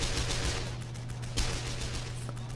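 Small-arms gunfire rattles in a Men of War battle on the Eastern Front, dense scattered rifle and machine-gun shots, some nearer and sharper, over a steady low rumble; no talk.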